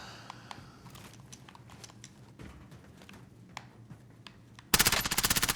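Video game gunfire rattles as scattered single shots and short bursts through a busy battle, ending in a loud, rapid automatic volley close up.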